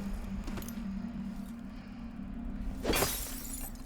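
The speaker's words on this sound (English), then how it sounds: "throwing a glass at someone that's unconscious" Glass thrown and shattering in the stealth game Dishonored 2: a single sharp crash of breaking glass bursts out near the end over a low steady game ambience, with no talking.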